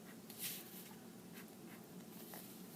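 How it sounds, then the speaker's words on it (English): A pen sketches loosely on paper around a drawn feather, making faint, close scratching strokes that continue steadily over a quiet background hiss. "kind of sketching"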